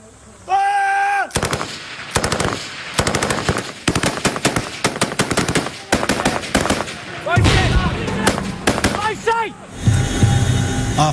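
Royal Marines in Afghanistan fire rapid bursts of machine-gun and rifle fire, loud, close and sharp. The cracks come in rattling volleys with brief pauses between them, and a shouted voice is briefly heard near the start.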